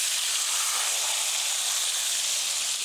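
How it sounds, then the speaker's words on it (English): Pork chops frying in a hot pan, giving a steady, loud, bright sizzle that holds evenly throughout with no voices over it. "Let these pork chops cook just a minute."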